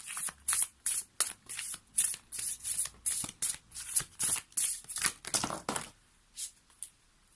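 Tarot cards being shuffled and drawn: rapid bursts of crisp riffling and slapping card sounds in quick succession, close and fairly loud, tapering to a few softer card flicks at the end.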